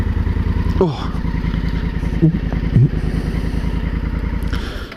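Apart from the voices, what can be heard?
Honda Africa Twin motorcycle engine running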